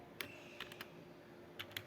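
Computer keyboard typing while writing JavaScript code, a handful of light, quiet key clicks in small irregular bursts over a faint steady hum.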